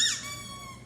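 A dog's squeaky toy gives a single short, bright, close squeak that quickly fades, with no voices.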